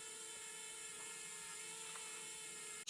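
A drone hovers overhead in the Sam Houston Forest, a steady high-pitched whine with a constant tonal buzz, moderately faint and continuous, ending in a brief rustle.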